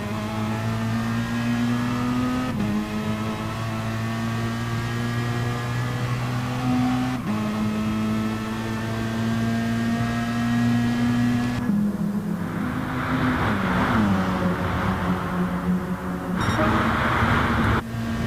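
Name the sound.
car engines revving in a video game match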